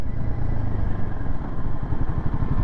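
A Royal Enfield Himalayan 450 rides off-road, its engine a close, rough low rumble with uneven pulsing and some clatter, the note rising and dipping as the throttle changes.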